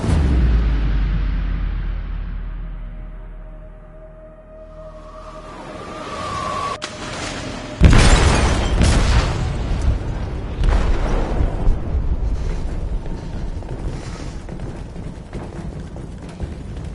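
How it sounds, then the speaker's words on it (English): An explosive goes off in a ship's hold in Detroit: Become Human, a deep rumbling blast followed by sustained roaring, crackling debris and noise. "They detonated an explosive in the hold."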